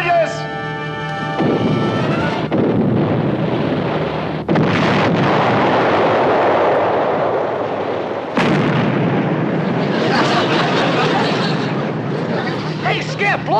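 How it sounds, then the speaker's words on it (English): Naval depth charges detonate in a wartime sea scene, several heavy booming blasts in succession with rumbling wash between them, loud and close, with voices shouting over the explosions. "Okay, stand by, depth charges."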